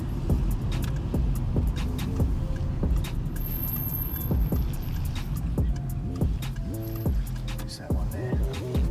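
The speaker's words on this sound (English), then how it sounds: "keep the motor running" A car engine idles and rumbles steadily close by, with some faint clicks and rattles over a continuous low hum; no talk.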